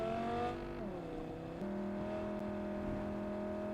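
A Cyberpunk 2077 car engine accelerating hard, a steady sustained roar that drops pitch briefly with a gear change and then pulls on evenly, loud and close with no talking.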